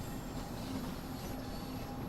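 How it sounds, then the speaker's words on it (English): A London Underground Bakerloo line train pulls into a platform in Train Sim World, a steady rumbling roll with faint wheel squeal and a high electrical whine, continuous and moderately loud with no voices. "Queen's Park service train now arriving at Queen's Park"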